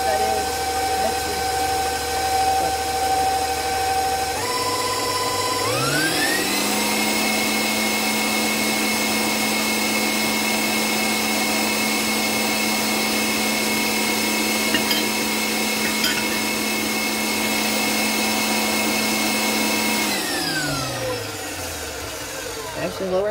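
A stand mixer whips vanilla cake batter, motor winding up to a steady loud whir that holds for about fifteen seconds before spinning down, with a faint rhythmic whisking texture throughout.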